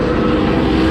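An ARCA race car roars steadily and loudly past during qualifying, a dense, continuous engine drone filling the short moment trackside.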